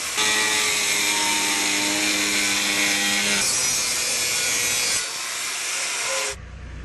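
A saw rasps steadily through wood to cut a cross-section, a loud continuous grinding stroke close up that shifts pitch midway and stops abruptly near the end.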